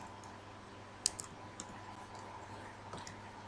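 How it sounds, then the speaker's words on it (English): Sparse, faint clicks and taps from a computer keyboard during a quiet typing session, with a few isolated keystrokes over a low hum. "and then type it in."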